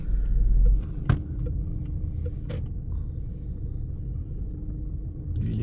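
A car engine accelerates during a driving lesson around Hagondange, giving a low cabin rumble with a brief louder surge at the start and a couple of short clicks, steady and close.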